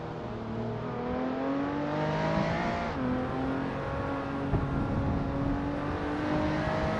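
A 2019 SSC Tuatara engine roars steadily in a racing game, a sustained high-revving drone with rising pitch as gears climb, one brief shift dip midway, and faint tire hiss underneath.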